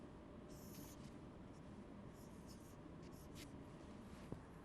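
A pen scratches out a division problem by hand, faint short strokes over a steady hiss of background noise, with no voice.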